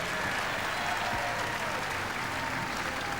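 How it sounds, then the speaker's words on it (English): A sellout crowd at Hisense Arena applauds during the 2012 UCI Track Cycling World Championships women's individual pursuit final, with dense, sustained clapping filling the whole stretch. "Big support from this sellout crowd in the Hisense Arena."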